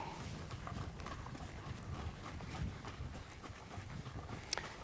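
A ridden horse trots along with steady, fairly faint clip-clop hoofbeats over low background noise, and a sharper knock comes near the end.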